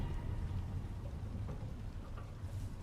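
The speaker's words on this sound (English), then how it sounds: "Another storm." Steady, dense rain roars in a stormy game world in Icarus, with a low thunder rumble running underneath throughout.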